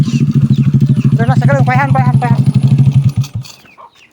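A motorcycle engine idles with a steady low chugging throb close by, over a voice speaking; the running note holds for about three seconds, then cuts out abruptly.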